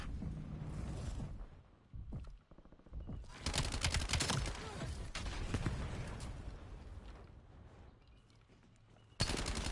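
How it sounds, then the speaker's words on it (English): Sustained video-game gunfire from Black Ops 7 as bots are shot, dense rattling bursts that swell and ease over nearly ten seconds with a sharp crack near the end. "I was shooting bots going that way"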